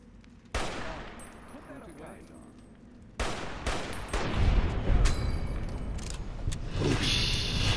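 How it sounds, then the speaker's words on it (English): Assault carbine gunfire in Fallout New Vegas, loud sharp shots and rapid bursts opening up in a busy firefight, with later volleys layered and continuous. "They have assault carbines and stuff."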